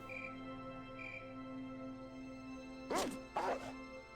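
Guard dogs in Fallout 2 bark twice in quick succession near the end, short sharp yaps over a steady humming game ambience with faint tones earlier.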